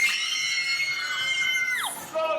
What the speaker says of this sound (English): Women screamed.